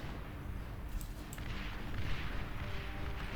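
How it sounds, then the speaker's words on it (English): Rocket bots in the strategy game Beyond All Reason launch into the air as a dense rumble of overlapping booms and whooshing blasts, loud and continuous, with no talking. "Those rocket bots shooting up into the air is quite funny"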